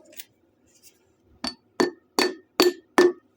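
A hammer taps a tight-fitting part into place on a Magnum 5.2L engine going into a 1969 Dodge Dart, with five quick, close metallic strikes in steady rhythm, each leaving a faint ring.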